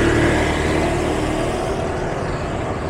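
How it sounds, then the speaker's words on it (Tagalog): Dense rush-hour road traffic in the Philippines, a steady loud wash of car and truck engines close by with continuous rumbling and no pauses. "Dami na pala sasakyan."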